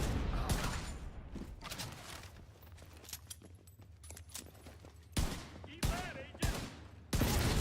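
Gunfire from automatic weapons being hip-fired in The Division 2, dense rapid bursts crackling through the first five seconds with several sharper, louder shots near the end.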